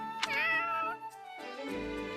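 A cat in the video game Fire Emblem Warriors: Three Hopes gives a drawn-out, wavering meow followed by a second, lower complaining cry, close and clear with no talk.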